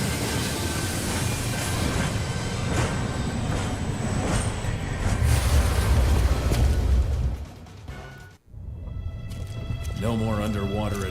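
Train rolling along in Onimusha 3: Demon Siege, a loud steady rumble with rhythmic clatter that fades out briefly before ambient sound returns, with someone talking over it.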